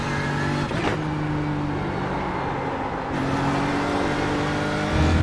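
A BMW GT3 race car engine from the iRacing game roars loud and continuous at Monza, holding a high steady drone with brief shifts in pitch at gear changes, up close and without talk.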